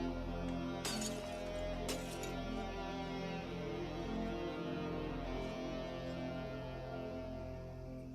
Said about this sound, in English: he actually smashes some glass with his elbow